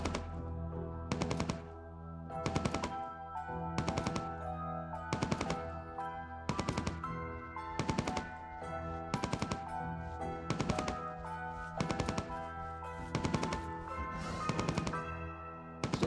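Rapid automatic gunfire in the online game Entropia Universe, a loud, steady stream of shots broken into repeated bursts with brief pauses between them, running throughout without talk.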